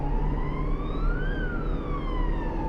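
A police car siren wailing loudly and continuously, its pitch rising and then falling, over steady low road noise from a vehicle towing a boat.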